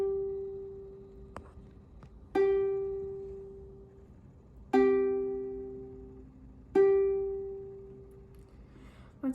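A ukulele's G string plucked repeatedly while being tuned, three clear ringing notes decaying slowly at even intervals, with the pitch shifting slightly between plucks, quiet and close.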